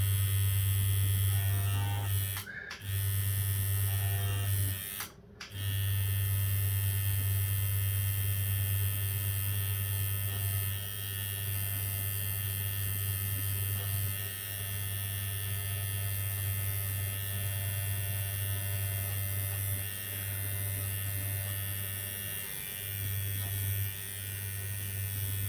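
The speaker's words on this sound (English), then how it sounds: "I might do a little bit of single needle shading really quick if I can." A tattoo machine buzzes steadily while doing single needle shading on fake skin, a close, continuous electric hum broken by two brief pauses near the start and slight dips in pitch later on.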